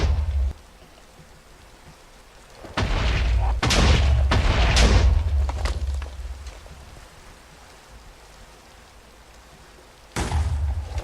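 Fireballs exploding in the modded Minecraft game, heard as a few loud, rumbling booms in a burst mid-clip followed by a quieter stretch and another sudden blast at the end.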